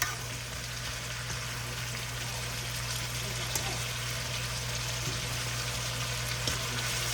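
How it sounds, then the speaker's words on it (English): Asparagus sautés in olive oil with seasonings in a pan, a continuous soft sizzle and crackle running steadily throughout, with no voices. "So all of the asparagus can get down into the pan and get the olive oil on it and the seasonings on it."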